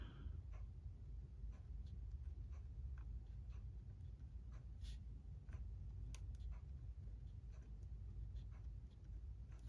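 Pen writing in an agenda planner, quiet scratchy strokes and small taps close up, soft and intermittent over a faint background hiss.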